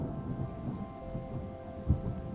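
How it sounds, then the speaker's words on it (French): A thunderstorm in the video game Terra Nil rumbles low and steady with a soft rain-like wash, one slightly stronger rumble near the end, no voices. "C'est l'orage."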